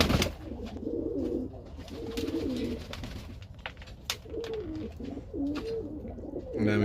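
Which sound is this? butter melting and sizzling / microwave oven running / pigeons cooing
pigeons cooing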